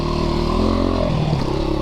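A Christini AWD 250DS all-wheel-drive dirt bike engine runs close and loud in a short burst, a buzzing motor note that shifts pitch slightly as it revs.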